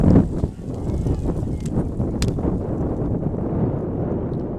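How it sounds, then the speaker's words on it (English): Wind gusts buffet an open microphone at an outdoor high school softball game on a mostly sunny 55-degree day, a steady low rumble with no other clear sounds. "So wind starts to pick up a little bit here."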